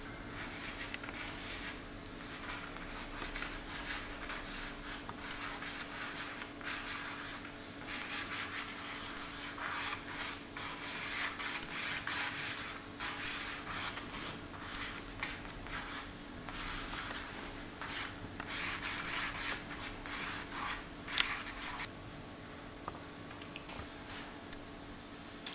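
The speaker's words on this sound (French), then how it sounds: "Je vais laisser ma main dessiner." A hand draws a portrait on paper, a long, steady scratchy rubbing of a drawing tool in soft, continuous strokes close by, over a faint constant hum, with one small knock near the end.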